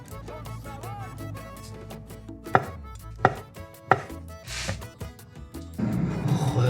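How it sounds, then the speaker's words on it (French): Knife slicing avocado on a cutting board, several distinct close taps and cuts spaced about a second apart, ending in a louder rustling scrape. "je me prépare une petite assiette avec de l'avocat tranché et du citron vert"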